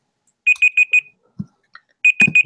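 A kitchen timer alarm goes off in two bursts of four rapid shrill beeps, loud and close, with a short rustle and thump in the quiet gap between them.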